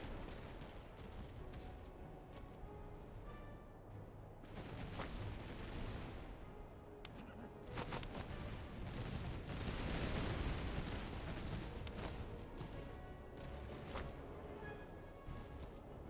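Musket volleys in the video game Master of Command, with scattered cracks and rolling bursts of gunfire over a dense battle din, some shots sharp and near, others distant.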